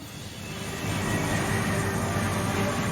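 Steady, loud roar of an airplane in flight in Devil May Cry, a broad engine drone that swells slightly and then holds constant with no voices.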